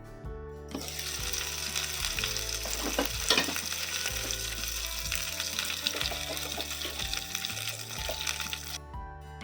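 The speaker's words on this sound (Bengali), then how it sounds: "1/4 কাপ পানি দিয়ে ঢেকে দিব। চুলার আঁচ মিডিয়াম লো হিটে রেখে স্টিম করব 6 থেকে 8 মিনিট পর্যন্ত।" Chicken momo dumplings sizzle in a covered pan after a quarter cup of water is added, a steady frying hiss and steam crackle over medium-low heat, continuous and close with no talk.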